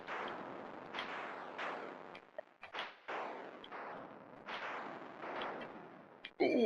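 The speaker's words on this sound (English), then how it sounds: "This is Missile Command from the" Atari Missile Command played on a Fallout 4 terminal sends out a rapid series of crackling, noisy explosion bursts, roughly a dozen in succession, ending in a bright electronic tone.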